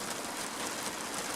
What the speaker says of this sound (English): And it's raining again